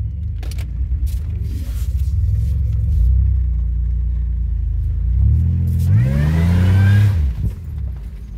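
A 2007 Pontiac Grand Prix GT with an S1X cam rumbles at a loping idle nearby, then revs up hard and drops back, engine pitch climbing and falling in one loud sweep before fading.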